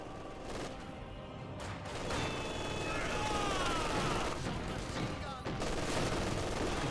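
Infantry gunfire in a Company of Heroes 2 battle, sustained crackling volleys of rifle and machine-gun shots with whistling rounds, running continuously under a commentator's voice.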